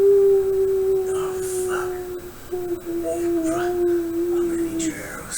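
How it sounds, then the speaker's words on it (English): Wolves howl in long, wavering, sustained cries over a noisy, rumbling background, with a second howl joining faintly in the middle. "And then you hear the horrible wolf call of the rebel prince."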